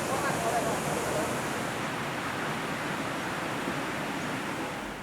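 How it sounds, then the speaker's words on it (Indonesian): Strong current of the Ayek Musi river, a steady broad rushing roar of fast water, loud and continuous throughout, easing slightly at the end, with a voice speaking faintly beneath it. "Saat beradaptasi di sungai kedua aliran Ayek Musi, arusnya cukup deras"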